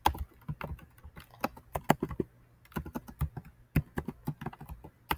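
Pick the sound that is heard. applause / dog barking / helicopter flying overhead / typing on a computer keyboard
typing on a computer keyboard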